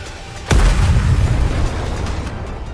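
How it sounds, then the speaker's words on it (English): A missile blast in the video game Nikke: one sudden heavy boom with a rumbling low-end tail that stays loud for a couple of seconds. "The missiles have no homing ability. It's just firing wildly!"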